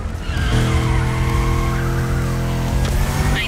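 A car drifts in The Crew Motorfest racing game, its engine droning steadily while tires squeal continuously and loudly through the slide, with no talking.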